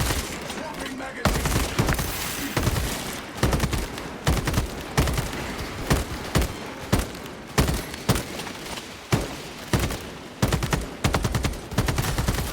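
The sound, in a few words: gunfire from a gun in a video game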